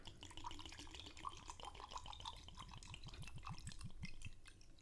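Whiskey poured from a bottle into a glass, a run of small liquid trickles and drips that splash in a loose, uneven rhythm close by, fairly quiet and steady throughout.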